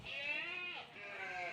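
Sheep bleating on an eco-friendly sheep farm in Sragen, Central Java: a couple of drawn-out, wavering bleats close by, moderately loud and with no talk.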